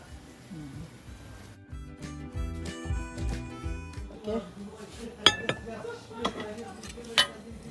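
A metal spoon stirring Thai soup in a pot on a home stove, irregular clinks and scrapes against the pot with a few sharp knocks, while a person talks throughout.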